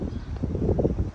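Cold wind blows across an open allotment plot in winter, a brief steady rush of low buffeting noise on the microphone.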